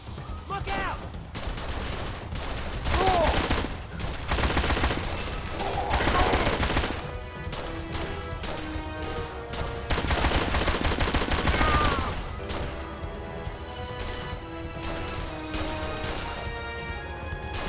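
A Tommy gun in the video game Blues & Bullets fires in long, loud automatic bursts mixed with crashing impacts and tense game music, and short pauses fall between the volleys.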